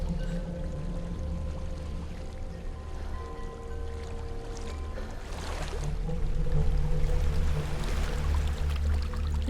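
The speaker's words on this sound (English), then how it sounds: "There is a waterfall." Rushing water from a waterfall in the video game Hellblade: Senua's Sacrifice, a steady broadband roar beneath low droning ambience that swells louder and fuller in the second half, with no talk.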